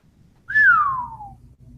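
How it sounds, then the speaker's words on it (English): A person gives one clear whistle, a single loud tone that slides gently downward for nearly a second, with near silence before and after. "That was a nice whistle"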